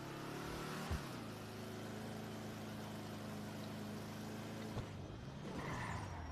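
A car in GTA V drives along with a steady engine drone, a brief thump near the start and another near the end, and the engine note shifting as it revs.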